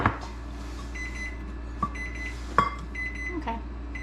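A small kitchen timer beeps in short repeated tones in a quiet kitchen during bread making, with light clicks and knocks between the beeps.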